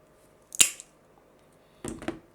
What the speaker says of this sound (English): And we'll try that now with the Lepinette double wheeled nippers.